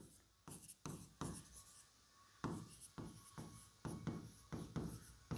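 Pen or chalk strokes scratch out notes in a classroom, a string of quick, close writing sounds with brief pauses between words, quiet and with no talking.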